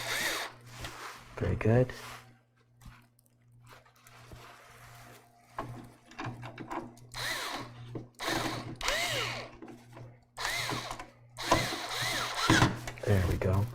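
A power drill drives screws into a PC case fan in short bursts of whirring, several separate runs spread between pauses, with someone talking over and between them close by.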